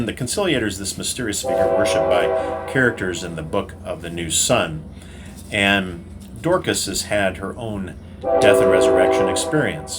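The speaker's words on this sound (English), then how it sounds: "Sorry for the train in the background." A train horn sounds in long blasts in the background as a train passes, heard under someone talking continuously close by.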